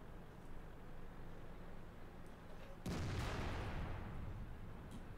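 A tank cannon fires once in World of Tanks, a sudden loud broadband boom that rings out and decays over about two seconds against steady low battle and engine ambience.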